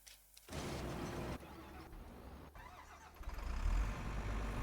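Truck engine starting in Farming Simulator 25: a brief crank catches into a steady idle that grows louder and rougher toward the end, close and alone without talk.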